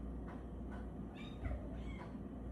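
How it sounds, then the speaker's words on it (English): A cat named Manny meows several times in quick succession, short rising and falling calls spaced about half a second apart, close by over a low steady background hum. "You want to meet the cat?"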